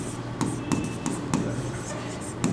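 Chalk or marker strokes scratch across a board during a physics class, a series of close, short, evenly spaced taps and scrapes with no talking.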